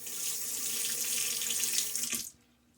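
Tap water running steadily into a sink for rinsing during a wet shave, a continuous close splashing flow that cuts off abruptly near the end.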